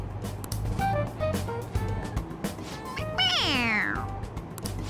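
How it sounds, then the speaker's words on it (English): A toy cat in the video game Persona 5 Royal lets out a clear, drawn-out meow when pressed, rising and falling over a low background hum, with brief game sounds before it. "It meows when you press on its head."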